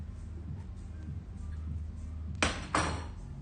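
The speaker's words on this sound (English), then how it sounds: "we are going to put our beautiful baby in the oven" A baking dish slides into an oven heated to 200 degrees, landing as two sharp clunks close together near the end, over a steady low kitchen hum.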